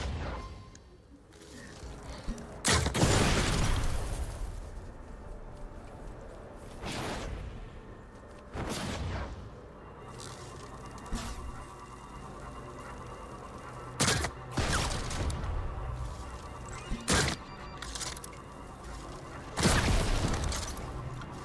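Bow shots and explosions in the Fortnite Save the World video game, sharp bursts and crackling blasts repeating at irregular intervals over a low background rumble, no talking.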